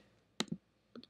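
A few crisp clicks of a computer mouse, close and isolated, in two quick pairs separated by a short quiet gap.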